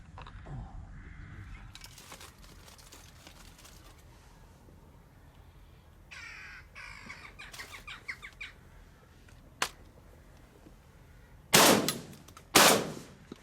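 Two loud, sharp gunshots ring out near the end while shooting corvids, preceded by crow caws and rustling outdoor ambience; no talking.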